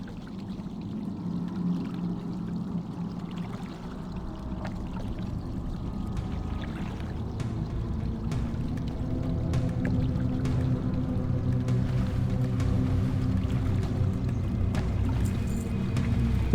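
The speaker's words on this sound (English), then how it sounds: "I'm gonna come over here and drink" A troll shaman drinking to regain mana in World of Warcraft produces a continuous liquid pouring and gulping sound, steady and fairly loud, building slightly over time with faint watery splashes.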